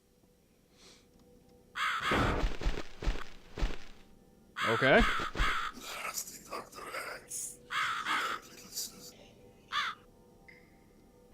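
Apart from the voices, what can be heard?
crow cawing in video game The Cat Lady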